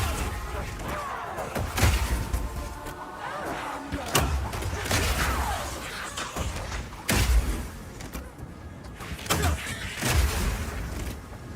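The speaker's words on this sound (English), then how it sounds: "the incendiary version of power shot is more like a rocket launcher. It does a big explosive blast at a distance." Incendiary power shot in the video game Path of Exile 2, acting like a rocket launcher: repeated heavy explosive blasts at a distance, thudding booms every couple of seconds amid combat noise, with a voice talking over them.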